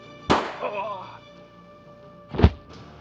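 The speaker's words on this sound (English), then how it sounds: "he pulled out his gun from its pouch on his belt and fired at Doug successfully" Two sharp gunshots, fired at a person, crack out about two seconds apart, each a sudden loud burst with a brief tail.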